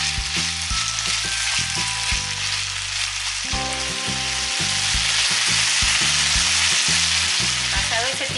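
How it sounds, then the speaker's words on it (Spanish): Vegetables for a Spanish vegetable omelette sautéing in a pan, a loud, steady close sizzle punctuated by repeated spatula stirring and scraping knocks. "y los rehogaremos aproximadamente por unos 10 minutos y iremos moviendo de vez en cuando."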